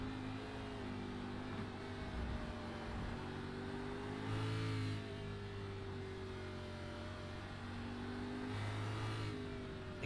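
Race car in a racing video game at Circuit of the Americas, engine revving hard at full throttle, a sustained high whine rising and dipping through gear changes and corners, steady and alone.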